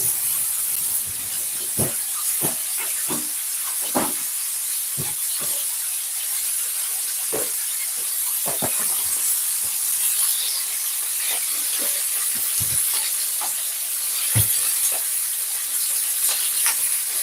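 Cut vegetables washed under running water, a steady bright hiss of the tap flowing continuously, broken by scattered soft knocks and splashes as the pieces are handled.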